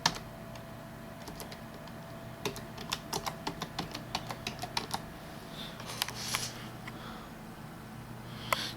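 Keys clacking on a Spanish-layout keyboard being tested one after another, quick irregular taps and short bursts with small pauses, close and fairly quiet over a steady low background hum.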